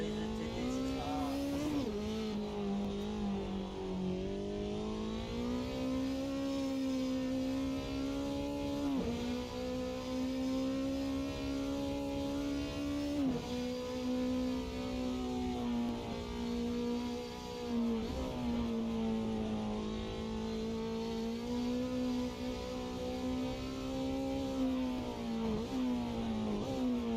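A Group 5 race car engine in the GTL racing game drones loudly and continuously, revving up through gears with rising pitch and brief dips at each shift, heard alone without talk for the whole lap segment.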